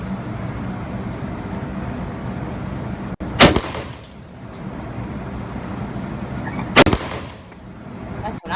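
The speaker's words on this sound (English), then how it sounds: "Here's me shooting some smiley faces." Gunfire aimed at smiley-face targets outdoors: two sharp, loud shots several seconds apart, each ringing briefly over a steady background of wind and road noise.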